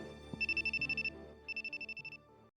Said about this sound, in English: But the phone kept ringing.